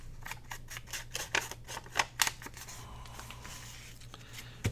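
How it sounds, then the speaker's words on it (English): A small piece of printed book page is torn off by hand for a washi tape scrapbooking project, a close, quiet series of crisp papery rips and crinkles in quick irregular bursts, then settling. "I'm going to tear a little bit off of this book page"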